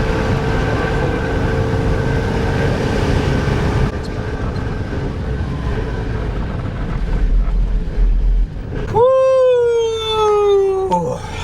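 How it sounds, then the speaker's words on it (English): A car climbs a steep, long mountain track, its engine droning steadily and evenly throughout, with a high gliding whine rising over it near the end. "I'll do a bit of driving at Claire's pace"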